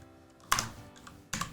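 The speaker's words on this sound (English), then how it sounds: "keyboard" Brief bursts of clicking on a computer keyboard while entering a manager name in a football management game, two short clusters of keystrokes separated by a pause, close and fairly quiet with no talking.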